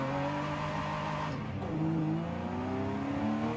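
Ferrari Testarossa engine in a racing video game, revving steadily with rising harmonic tones that drop and climb again through gear changes, loud and continuous with no talk.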